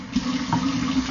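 Water runs steadily from a tap into a sink, a continuous close rushing flow with a faint splashy surge partway through, no voices.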